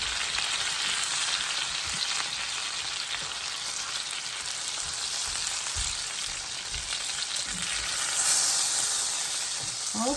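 Chicken frying in a skillet, a loud continuous sizzle and crackle that holds steady throughout, swelling briefly near the end, with no talking.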